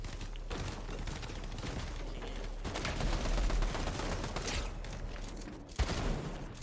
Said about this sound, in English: Shotgun shots coming in.